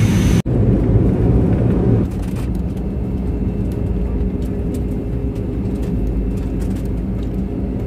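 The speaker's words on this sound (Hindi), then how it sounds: "और अगर आप देखोगे तो यहाँ पे आप थोड़ी देर में हमारा यहाँ पे लैंडिंग होने वाला है।" Steady, loud airplane cabin roar on a Chennai to Guwahati flight during the landing approach, a continuous low engine and airflow rumble throughout with a brief dip near the start.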